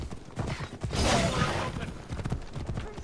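A horse gallops in rapid, rhythmic hoofbeats through the ancient Greek world of Assassin's Creed Odyssey, steady and fairly close, with someone talking over it.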